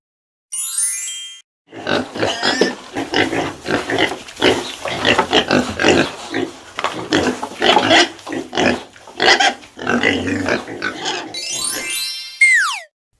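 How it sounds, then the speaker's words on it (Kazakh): A pig grunts and oinks repeatedly in a dense, rough series of close snorts lasting several seconds, framed by short bright jingling chimes at the start and end. "Шошқа."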